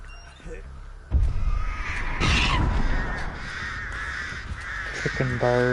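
Crows cawing in the horror game Dead by Daylight, harsh repeated caws rising after a sudden loud burst, with game ambience and someone talking over them.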